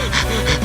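A character in the visual novel If My Heart Had Wings pants after a bike ride: two quick, breathy exhalations, close and fairly loud.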